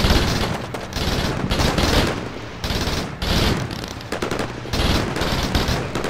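Heavy machine gun fire in the Combat Mission Shock Force war game, loud dense bursts of rapid automatic shots in several long volleys with brief pauses between, and no speech.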